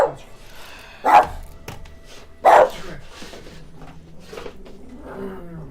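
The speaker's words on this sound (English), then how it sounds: "Considering that the dog started barking." A dog barks twice in short, sharp bursts about a second apart, fairly near and loud against a quiet background with faint talk and game sounds.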